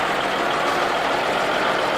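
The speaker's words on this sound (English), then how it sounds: "is a 1956 Scammer S18 with the Gardner 120 engine" A 1956 Scammell S18 truck with a Gardner 120 engine, a drawbar export model, runs steadily at a show, giving a continuous broadband engine rumble with no pauses across the clip.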